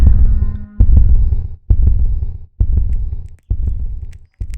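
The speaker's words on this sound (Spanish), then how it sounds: "Es el latido de su implacable corazón." A deep, booming heartbeat thuds in a steady slow rhythm, five heavy double beats with brief silences between, loud and close, marking the pounding heart in a reading of Poe's The Tell-Tale Heart.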